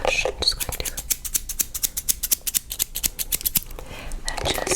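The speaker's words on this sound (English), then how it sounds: "get the pinpoint scissors now" Pinpoint scissors snip through hair in quick, close, crisp bursts during a fast haircut, a dense irregular run of sharp cuts with faint whispering at the start and end.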